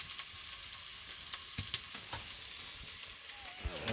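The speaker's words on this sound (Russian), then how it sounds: "Сейчас вот готовлю еду. Хочу рис с тушенкой сварить." Rice and canned stewed meat cooking outdoors at a fishing camp in Ust-Yansky district, Yakutia, giving a steady soft sizzle and bubbling with a few clinks and stirring knocks, close up and without talk.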